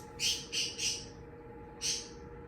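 Birds chirping outdoors, four short bright chirps, three in quick succession and one more after a pause, heard over a steady background hum with no talking.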